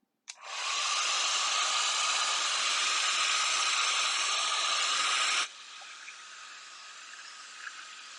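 A dryer blows a loud, steady hiss close by while drying alcohol ink artwork, running for about five seconds before cutting off abruptly into quiet room tone.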